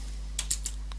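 A few quick keystrokes on a computer keyboard while entering code, close and crisp over a steady low hum.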